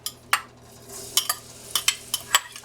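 Onions go into a pan of leftover pork chop frying oil on a stove that is turned down low, with a soft sizzle under sharp clinks and scrapes of a utensil against the pan.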